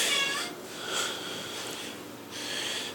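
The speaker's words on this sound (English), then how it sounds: "Damn cat's meowing at me." A cat meows loudly and close by, three drawn-out calls spaced across a few seconds with quieter breathy noise between them, and no talking.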